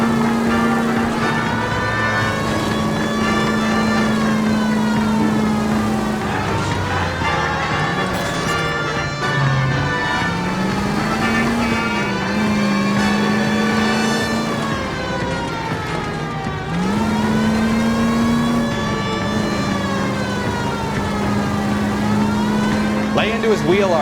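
Police car siren wailing over a revving engine during a pursuit of a stolen green Kaiser Fraser in the 1940s Los Angeles video game L.A. Noire, loud and continuous, rising and falling, with someone talking over it.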